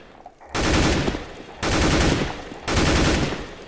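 Rifle fire in Counter-Strike: Global Offensive rattles out in three sustained automatic bursts of about a second each, loud and dense, separated by short pauses with no voices.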